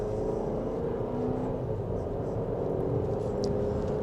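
Cabin drone of a 2025 GMC Acadia Turbo 4 accelerating in sport mode, a steady engine and road hum rising slightly in pitch, continuous and moderately loud, with no talking over it.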